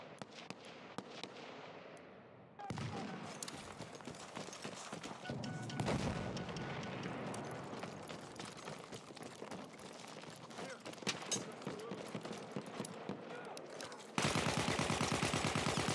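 Gunfire in an Xbox One tournament match of the video game Incursions, with dense bursts of rapid shots and sharp booms running throughout and turning louder and heavier near the end.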